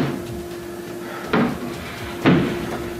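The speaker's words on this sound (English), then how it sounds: "stuff like footsteps coming from an empty room" Knocking in a dorm room: two sharp, solid knocks or bumps about a second apart, fairly close, over a quiet room hum with no one talking.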